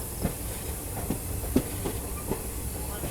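A passenger train in monsoon country taking a sharp curve, heard from inside a coach: a steady rumbling hiss with periodic soft clacks of wheels over rail joints.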